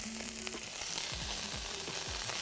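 Chicken breast fries and browns in a pan with a steady, close sizzle, while low thumps and faint scraping come through underneath.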